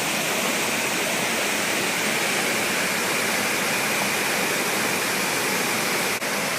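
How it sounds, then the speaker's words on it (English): A waterfall on Koh Kood island, Thailand, roaring as a loud, steady broadband rush of falling water, close and continuous throughout with no voices over it. "Whoa, I think we're coming to a waterfall."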